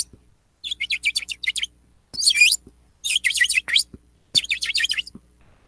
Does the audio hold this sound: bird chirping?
yes